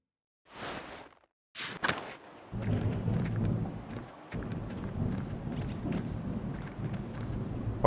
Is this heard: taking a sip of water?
no